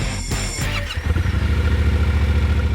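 Yamaha T7 adventure motorcycle running in a sand pit, a loud, close engine that rises and settles into a steady throbbing idle with a brief squeal near the start, no talking.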